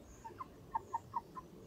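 Three-month-old hens on a small farm of local breed chickens give a short run of soft, mid-pitched clucks, about six quick notes, fairly close over a faint background with no talking.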